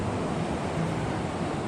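Surf at Meraki Beach Boulders in a conservation reserve north of Dunedin, New Zealand, just after high tide, a steady broadband wash of rolling water with no distinct breaks, close and constant, no voices.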